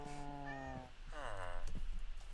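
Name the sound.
cat meowing in Minecraft video game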